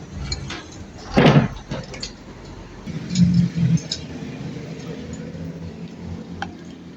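Old doors in a weathered stone house are pushed shut and secured. Two close, dull knocks with a scrape stand out against a quiet, hollow room.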